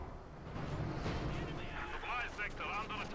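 Battle gunfire and explosions in the video game Company of Heroes 2, a continuous dense rumble of shots and blasts with someone talking over it.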